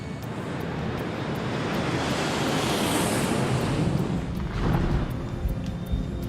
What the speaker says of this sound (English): Copa Airlines Flight 201 takes off for a short flight to Cali, Colombia.